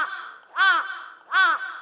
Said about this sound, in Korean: 까마귀 소리가 엄청나요